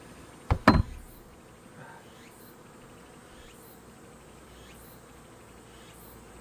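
Honeybees buzz softly and steadily around an open hive during a late-summer inspection ahead of autumn preparations, the hum faint and continuous after a couple of brief sharp knocks at the start.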